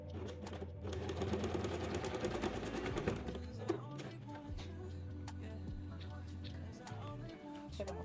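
A sewing machine stitches the fabric of an organizer basket with a steady, fast mechanical whir and rattle that runs under much of the clip, close by, with ticking clicks and a short pause near the middle.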